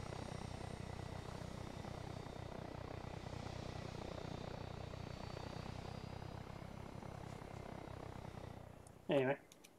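A steady, rumbling aircraft engine drone in the ARMA 3 video game, continuous and fairly faint, followed near the end by a brief, louder electronic tone.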